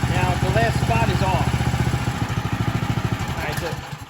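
Troy-Bilt 31AM6CP3 snow blower engine idling low and steady, a close, even mechanical putter with rapid regular pulses under someone talking.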